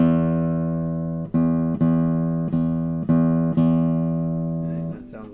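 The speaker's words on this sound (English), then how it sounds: "I'm going to tune off of this E." A guitar's low E string is plucked again and again during tuning, each pluck ringing out with a sustained, slowly decaying tone. The notes are close and clear, with no talking over them.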